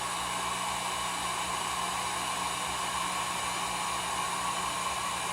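A honey extractor spins raw honeycomb at slow speed, giving a steady, loud whirring drone with a constant hum and no pauses or talk.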